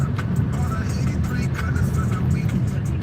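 A car creeps slowly over rocky, unpaved ground on the way to a firing range, its steady engine rumble mixed with continuous crunching and rattling of tires over loose rock, close and fairly loud.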